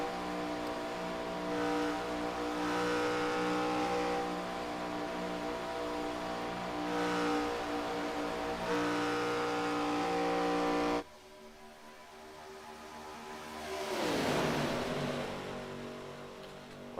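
Chevrolet race cars thunder around Daytona in a steady, sustained engine roar, close at first, then dropping sharply before a car swells past and fades, with no voices.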